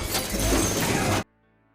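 Glass smashes in one loud, dense burst of crashing noise lasting over a second, then stops abruptly and leaves only faint background tones.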